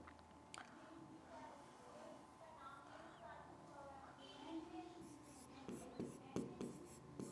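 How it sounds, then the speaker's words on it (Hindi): A pen writes an answer by hand on a Hindi model exam paper, with soft scratching strokes and taps that get busier toward the end, while someone talks quietly. "यहां से लिखते हैं।"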